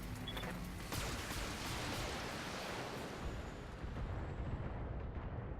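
Mech weapons unloading in the BattleTech video game: a dense, continuous barrage of loud, rumbling blasts and bursts that roll together for several seconds without a pause, with no voices.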